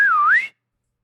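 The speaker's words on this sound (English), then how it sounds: "There's a whistle." A single short whistled call rises, dips and climbs again in pitch, clear and close, cutting off abruptly after half a second into silence.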